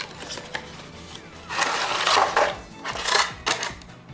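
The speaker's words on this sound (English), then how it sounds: "I'll just slide the knife in there and slice right through there" Knife slicing through plastic action figure blister packaging, a series of close scraping, crackling cuts in uneven bursts, the loudest stretches lasting about a second each, with sharp ticks and rustles of plastic between them.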